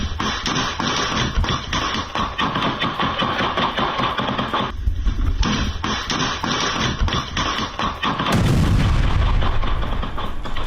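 Gunfire and mine blasts ring out during a Russian army trench drill, a dense run of sharp reports and thuds that continues across the stretch, broken by a brief lull and ending in a heavy, boomy explosion.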